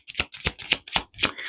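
Tarot cards being shuffled with cards flying out: five quick papery riffle bursts in a steady rhythm, close and crisp, with no voices.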